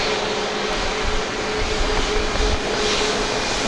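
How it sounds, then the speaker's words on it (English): A FedEx plane flies overhead near an airfield, giving a steady broadband engine roar that holds at an even level throughout without fading. "believe that's a FedEx plane just to the west of us."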